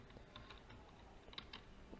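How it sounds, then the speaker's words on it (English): Password keystrokes on a computer keyboard, quiet and fairly close: a scattered run of soft clicks with a few sharper taps, the last key press standing out at the end, with no one speaking. "I have typed my password, but it is not showing, right?"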